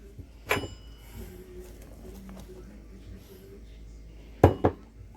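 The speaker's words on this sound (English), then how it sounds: "I'm going to transfer this over to a bigger bowl" Bowls and dishes clink as banana almond cream cheese bread dough is moved into a bigger bowl: one sharp clatter early, then a quick double knock near the end, with quiet kitchen handling between.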